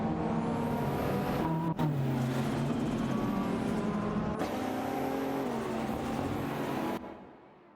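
Race car engines roar in a video game race as cars run neck and neck into a final corner, with sustained high revving and shifting engine tones and brief cuts, ending with a fade.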